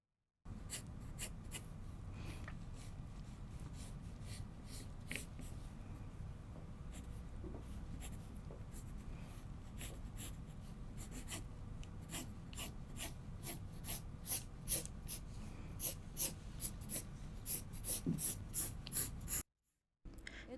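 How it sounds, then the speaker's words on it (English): Pencil lines drawn on paper for a shawl-collar jacket pattern, a steady scratchy graphite rasp running continuously with small strokes and taps, close and quiet, no talking. "Draw smooth, beautiful lines."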